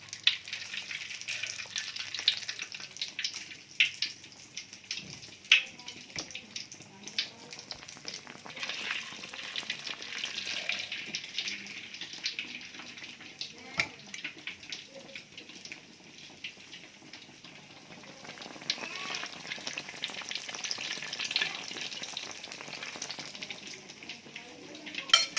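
Gabin tape coated in egg frying in hot oil, a steady close hiss and crackle running throughout with occasional sharper pops and light stirring clinks.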